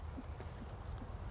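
A ridden horse's hooves clip-clop in a steady walking rhythm on the ground, soft and fairly muffled.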